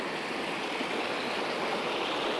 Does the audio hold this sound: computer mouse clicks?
no